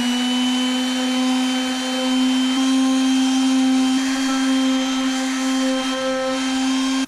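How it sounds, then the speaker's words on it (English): A power sander works a wooden shelf inside a camper van, a steady high whine held at constant pitch for several seconds, loud and close with no pauses. "we'll sand it down and stuff to hopefully make it be a perfect fit"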